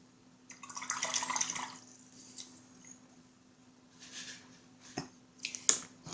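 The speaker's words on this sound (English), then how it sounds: "Wash my dry brush in it" A dry paint brush rinsed in water while painting miniatures: soft splashing and dabbing swishes, loudest early, then scattered small drips and light taps close by in a quiet room.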